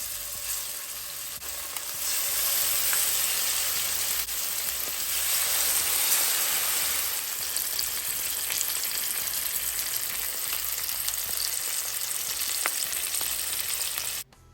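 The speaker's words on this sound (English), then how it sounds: "So of course I added the salmon to the pot" Salmon frying in oil in a pot for a brown stew dinner, giving a steady, close, loud sizzle with crackling spatter that holds for about fourteen seconds and then cuts off.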